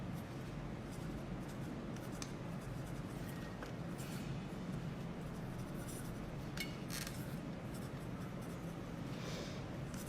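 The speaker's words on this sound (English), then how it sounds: "just with a felt pen that I had at home, I'm going to write my name" A felt pen writes a name on a table setting decoration, producing soft, faint scratching strokes in short bursts over quiet room noise.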